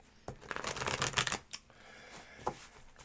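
Tarot cards shuffled by hand during a live reading, a close rapid flurry of papery riffling and slapping, then a few softer separate taps, with no talk.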